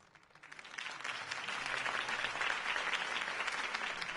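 Crowd applause in the Batman Telltale Series video game, a steady wash of clapping from a large audience that swells in within the first second and holds loud and even throughout.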